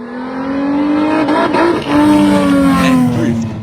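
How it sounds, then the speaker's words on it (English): Drag racing cars fire up and rev at a speedway, a loud, sustained engine roar with rising pitch sweeps and overlapping revs from nearby machines, continuous for several seconds. "also had some drag racing fire-ups"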